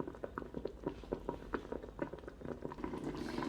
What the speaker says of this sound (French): Vous voyez que ça commence à bouillir.